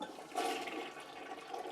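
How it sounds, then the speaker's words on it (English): A toilet flushes into a metering rig that measures the outgoing water: a brief, close rush and gurgle of water that surges early and then settles, with no voices. "we flush it."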